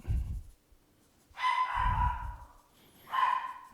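A single dog barks a few times in a slow pattern, each deep bark carrying a tonal ring, moderately near and alone with quiet gaps between.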